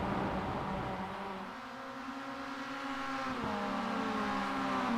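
Spec Miata race cars on track: a sustained, fairly loud engine roar with several cars overlapping and a brief downshift partway through.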